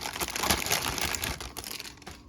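Plastic packaging on a Blokees Classic Class Optimus Prime figure is cut open and crinkled close up, giving a dense, continuous rustling and crackling that fades slightly toward the end.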